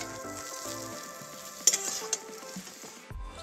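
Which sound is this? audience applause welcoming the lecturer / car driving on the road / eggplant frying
eggplant frying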